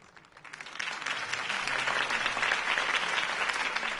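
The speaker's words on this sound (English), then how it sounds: "If only Mr. Wayne, my campaign's largest backer, could have heard that applause" In a video game, a crowd applauds after a campaign speech in a city, the clapping swelling from a soft start into sustained, steady applause.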